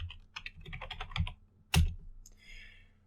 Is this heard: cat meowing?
no